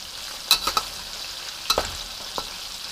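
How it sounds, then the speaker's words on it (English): Cornstarch-coated Kung Pao ingredients fry in hot oil, a soft steady sizzle punctuated by a few sharp clinks and scrapes of stirring, close and without talk. "So I want to fry this."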